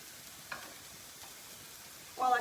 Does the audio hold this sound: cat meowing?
no